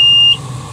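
A steady, high electronic alarm tone sounds inside the cab of a Komatsu HD785 dump truck, holding for about a third of a second before cutting off, leaving low engine idle rumble underneath.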